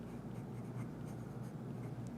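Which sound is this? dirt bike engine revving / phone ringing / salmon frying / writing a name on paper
writing a name on paper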